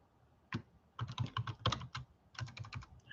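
Keys clack on a computer keyboard in irregular bursts of quick taps, close and fairly quiet, with brief pauses between runs and no talking.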